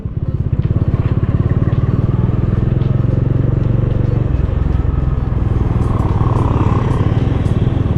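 Bajaj Dominar 400 motorcycle in second gear, its engine running loud and continuous close by with a steady throbbing note and a slight uneven jerk, no voices.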